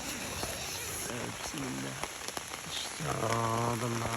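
Steady rain falls throughout on a campsite in a forest, a dense hiss with scattered drops, while someone speaks briefly under it.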